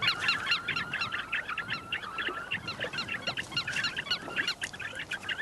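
A dense colony of silvery grebes calls continuously, with many overlapping nasal, honking chatters repeating in quick bursts at moderate distance.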